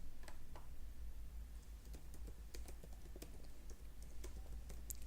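Keys clatter on a computer keyboard in an irregular run of crisp, close taps over a low background hum.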